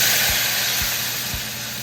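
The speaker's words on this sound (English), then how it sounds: "The next step is to add in some white wine" White wine hitting a hot pan of bacon to deglaze it gives a loud, steady hissing sizzle, broad and close, holding without letup and easing slightly toward the end, with no voices.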